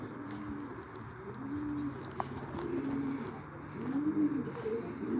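Racing pigeons coo softly and repeatedly, a series of low, rounded calls rising and falling over quiet background noise, with a few faint clicks scattered between them.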